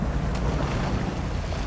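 A truck in SnowRunner pushes through water deep enough to cause engine damage, giving a dense, continuous churning splash and rumble with no pauses and no talk.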